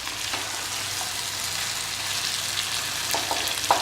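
Masala fries in ghee with a steady close sizzle and crackle, and faint stirring clinks rise near the end, with no voices.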